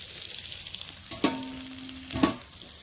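A steak fries in butter in a pan on a camp stove, a continuous soft sizzle broken by two sharp clanks of the pan or utensil, with no talking.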